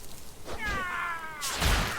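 A pet cat attacks in World of Warcraft, giving a clear whining meow-like yowl followed by a thudding scratch impact, close and alone.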